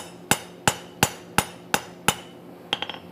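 Six evenly spaced ringing blows from a rounding hammer on hot forged steel, followed by a quick cluster of lighter metallic clinks and taps, close and crisp over a faint steady hum, no talking.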